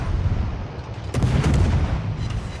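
Naval gunfire from a warship in a video game, heavy booming cannon blasts over a constant rumbling background, with one strong report standing out in the middle.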